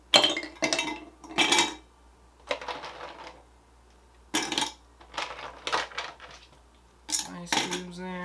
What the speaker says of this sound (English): I'm just going to add in some ice cubes.